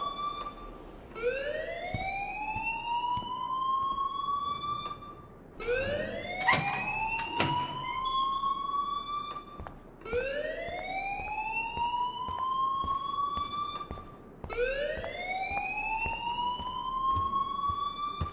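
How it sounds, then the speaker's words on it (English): Electronic fire alarm from the video game Life is Strange, repeating a rising whoop-like tone in four cycles with a brief high beep partway through, loud and steady throughout. "please turn off that alarm since that's your job"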